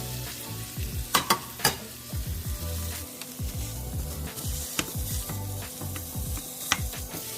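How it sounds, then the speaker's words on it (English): Ground beef and sausage fry in a pan with a steady close sizzle, broken by scraping and stirring strokes and a few sharp clinks of a utensil against the pan. "We got our ground beef and we're also gonna be throwing in the sausage right now."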